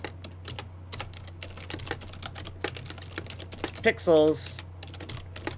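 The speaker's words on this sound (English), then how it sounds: "Anytime I type pix per var," Typing on a computer keyboard: a steady patter of light clicks runs through the whole stretch, mingled with someone talking and a low hum behind it.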